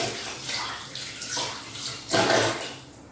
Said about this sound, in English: a little wash of hands because I'm covered